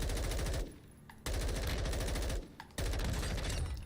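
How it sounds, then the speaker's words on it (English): Rapid automatic gunfire in a video game, loud sustained bursts of machine-gun fire separated by two short pauses, with no talking. "You're getting shot at."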